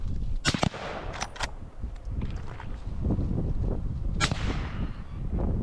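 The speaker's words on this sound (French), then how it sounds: "Très beau tir, il tire à peu près en même temps au premier coup" Rifle shots fired at wild boar during a hunt outdoors, a few sharp cracks close together early on and another single report a few seconds later, over steady wind and rustling background noise.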